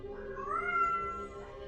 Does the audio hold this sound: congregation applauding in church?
no